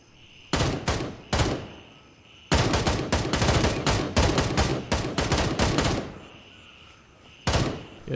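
Bursts of automatic suppressing gunfire in the tactical shooter game Gray Zone Warfare, loud and close, with short volleys followed by a long sustained string of rapid shots and a final burst, no talking.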